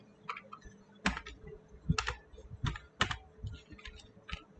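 Keys clatter on a computer keyboard as someone types out Java code, irregular clusters of close, crisp clicks with short pauses between bursts.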